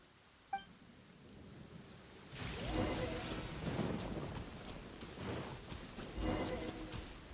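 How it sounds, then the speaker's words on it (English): Thunderstorm with lightning in Genshin Impact: a sudden rolling rumble of thunder breaks in after a brief chime, followed by sustained rain-like wash and further swelling rumbles. "Uh-oh! Lightning storm!"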